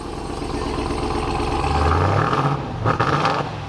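A 2021 Ram TRX engine runs close by and swells into a deep rev, the low roar rising then settling back to a rumbling idle with a brief blip near the end.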